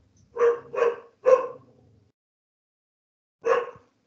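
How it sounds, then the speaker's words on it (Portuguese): A dog barks three times in quick succession, pauses, then lets out one more bark, close and fairly loud with silence between. "cachorro aqui latindo"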